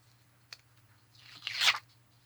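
Adhesive strips peeled off a handmade card box: a small click, then a drawn-out rasping tear that builds and peaks before stopping, close and fairly quiet over a steady low hum.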